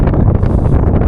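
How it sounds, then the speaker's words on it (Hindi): Strong wind at an icy mountain helipad, a loud continuous buffeting roar across the microphone with no break. "बर्फीली सामने चोटियां हैं और हवा चल रही है ज़बरदस्त"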